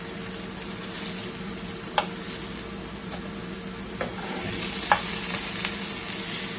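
Ground lamb burger patties fry in a pan with a steady, soft sizzle of spitting grease, broken by a few sharp pops and crackles scattered through the clip, with no voices.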